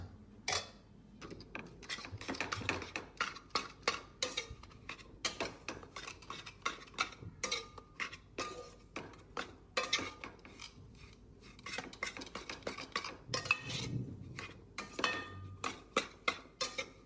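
A spoon scraping and clinking against a pan as moong dal ladoo mixture with rabdi is stirred on a gas stove, irregular metallic ticks and scrapes throughout, fairly quiet and close.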